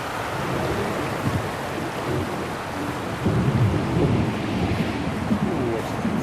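A thunderstorm in the video game Syberia: The World Before, with steady rain and wind roaring throughout and a low rumble of thunder swelling partway through.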